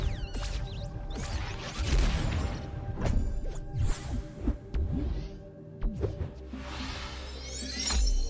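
Glass shattering in the video game Tunic, several sharp crashes and whooshes scattered over a dense, humming game soundscape, with bright breaking bursts near the start and end.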